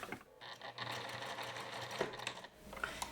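Sewing machine running steadily as it stitches the seam of a woven-fabric cardigan, a continuous close-up mechanical whir that briefly eases off near the end.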